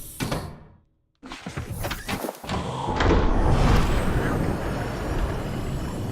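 Cyclops submarine docking in a Subnautica moon pool: a sliding clunk and door thunks, a brief drop to silence, then a steady mechanical rumble and hiss with faint clanks.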